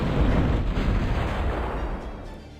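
Bombs dropped by Phoenix bombers exploding in Zero-K, a loud deep blast rolling into a sustained rumble that gradually fades.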